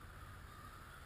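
Many crows cawing together while harassing a hawk or owl, a faint, distant, continuous chorus heard outdoors.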